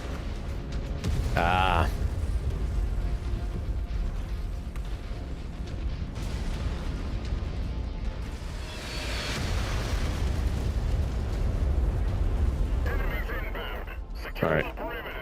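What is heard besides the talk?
explosions in the video game MechWarrior 5: Mercenaries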